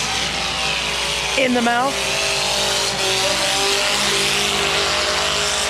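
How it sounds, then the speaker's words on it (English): Mini cars in a dirt-track heat race roar past with a continuous loud engine drone, one pitch sweeping briefly, while an announcer talks over the racing. "in the Chico Towing mini car heat race"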